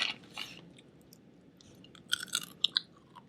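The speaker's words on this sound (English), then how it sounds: "Just don't crunch them into the mic, please." Praline-coated pistachios crunched close to a microphone, a few crisp bites and chews at the start, then a cluster of sharper crackling crunches near the end, loud and intimate against a quiet background.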